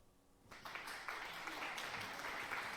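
An applause sound effect played on a live stream for a Ylands Q&A, a burst of clapping that starts abruptly and holds at steady loudness to the end.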